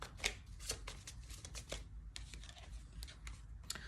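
Tarot cards being shuffled and drawn from a deck, a series of sharp riffling and slapping bursts at an uneven rhythm, close and quiet with no talking.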